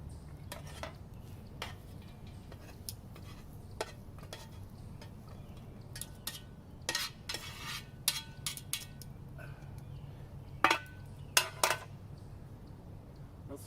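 Bacon and eggs cooking in a pan over an outdoor firepit, with scattered metallic clinks and taps of utensils against the pan over a low steady background, and a few louder clanks near the end.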